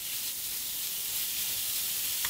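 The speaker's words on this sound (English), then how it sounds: "Hear that sizzle." Ground beef sizzling in a pan, a steady, bright hiss of frying fat that holds evenly throughout, close and continuous with no talking.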